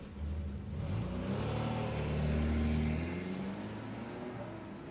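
A car engine starts to pull away and drive off, its low rumble rising and holding steady as it accelerates, close and fairly loud with no talking.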